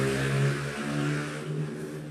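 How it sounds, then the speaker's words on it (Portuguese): A motorcycle engine outside, droning and slightly revving as it passes at a moderate distance, a steady hum that swells and eases over about two seconds with no talk. "Você ouviu esse barulho de moto?"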